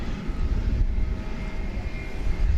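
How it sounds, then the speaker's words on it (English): At DFW Airport at night, a jet aircraft gives a steady, loud, broad roar with a deep low rumble and a faint high whine, holding at an even level throughout. "the occasional roar of jet engines in the background"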